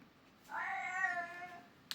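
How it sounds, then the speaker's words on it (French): A house cat gives a single drawn-out meow of about a second and a half, fairly close and clear, with a faint click at the end. "j'ai un chat qui perturbe souvent mes instants où je me filme"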